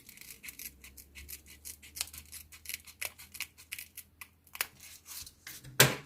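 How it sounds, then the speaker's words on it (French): Scissors snip through a piece of velcro in a series of close, crisp cuts at an uneven pace, ending with a sharper, louder snip. "Regardez, je vais couper un morceau des deux côtés."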